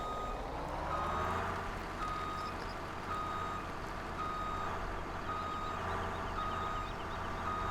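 A truck backing up in Farming Simulator 17, its reversing alarm sounding a steady series of evenly spaced beeps over a constant low engine drone, unbroken throughout with no speech.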